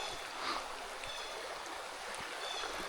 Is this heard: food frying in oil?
no